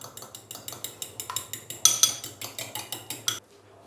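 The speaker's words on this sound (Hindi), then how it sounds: "एक बाउल के अंदर एक अंडा डालेंगे, अंडे को अच्छे से फेंट लेंगे।" An egg is beaten in a bowl for coating chicken shami kababs, giving a quick run of rhythmic clinking whisks against the bowl, steady and close for about three seconds before stopping.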